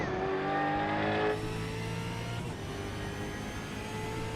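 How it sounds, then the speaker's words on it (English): A SuperCars NZ race car warming its tyres on the outlap, engine loud and close with a sustained revving drone whose pitch sweeps up and down, easing slightly after the first second and carrying on steadily throughout. "Phil Carpenter, Reaper Racing, warming up the tyres on the outlap"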